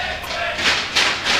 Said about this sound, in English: it is sounding really good from the crowd so far